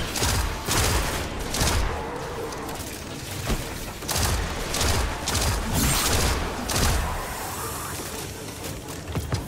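Dense, continuous gunfire in the shooter game Destiny 2, rapid bursts of shots overlapping into a busy, loud barrage that keeps going throughout.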